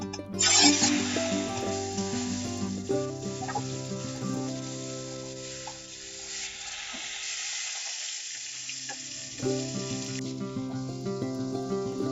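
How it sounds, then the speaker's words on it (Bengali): Hot oil spooned over pomfret fish frying in a pan, a loud burst of crackling sizzle at the start that settles into steady frying, mixed with tonal background sounds. "ওগুলোর গায়ে একটু গরম তেল দিচ্ছি যেন ফেটে না ওঠে"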